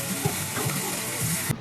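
Hot grease sizzles and crackles in a cooking pan in a brief, steady burst, loud and close with no talk over it.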